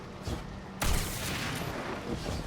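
A shotgun blast in the Destiny 2 video game, one loud broad boom partway through that rolls off into a sustained rumble of game noise.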